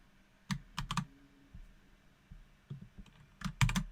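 Git clone command being typed on a computer keyboard: scattered bursts of crisp close key clicks, a few quick strokes at a time, separated by short pauses in a quiet room.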